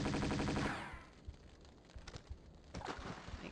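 Rapid gunfire from Tomb Raider II, shooting at a barracuda underwater in the 40 Fathoms level: a dense, loud burst lasting under a second that cuts off and leaves quieter game ambience with scattered soft thumps.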